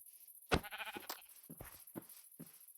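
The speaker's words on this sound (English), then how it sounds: "Sheep." A Minecraft sheep bleats in short wavering calls, followed by several sharper bursts of blocky in-game sounds, fairly close, over a faint steady high-pitched background hum.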